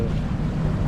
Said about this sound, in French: Là, on vient d'allumer le moteur parce qu'on marchait à 2 à l'heure, donc on fait voile et moteur.